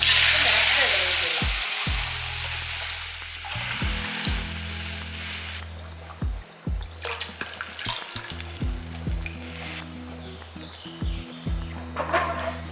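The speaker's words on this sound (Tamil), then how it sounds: "எண்ணெய் நல்லா காயட்டும் காஞ்சதுக்கப்புறம் நல்லா ஒரு குட்டி ஸ்பூனில் ஒரு ஸ்பூன் அளவுக்கு கடுகு சேர்த்துக்கோங்க" Mustard seeds crackling and sizzling in hot oil while tempering rasam, a loud hiss at first, then popping, with a spoon tapping and scraping the pan.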